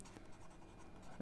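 Chalk or pen scratches steadily on a board during a lecture on overfitting and underfitting, faint, close and dry, with no talking.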